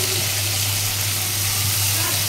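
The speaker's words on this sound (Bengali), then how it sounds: "আলু দিয়ে আমি ডিমটা রান্না করছি" Eggs and potatoes frying in a pan give a steady, close hiss of sizzling that runs unbroken throughout, with a low hum beneath.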